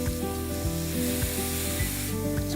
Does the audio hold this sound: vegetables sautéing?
yes